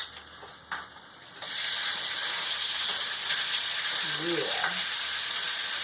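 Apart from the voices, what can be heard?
chicken pieces sizzling as they go into the hot pan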